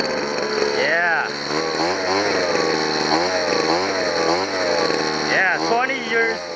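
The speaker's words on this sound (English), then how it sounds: "Leaf blower, leaf blower. Great machine. It's working now." A repaired Sears Craftsman leaf blower/vac engine runs close by with a loud, buzzing drone that rises and falls in pitch as it revs. Someone talks excitedly over it throughout.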